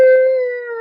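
A person's voice mimics a wolf howling, one loud sustained tonal note held for just under a second, steady and slightly falling in pitch.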